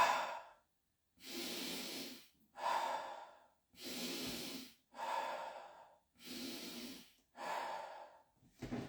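Slow, deliberate breaths in and out during qigong practice, seven or so airy inhales and exhales in an even rhythm with short silent gaps between, close and soft, no talking.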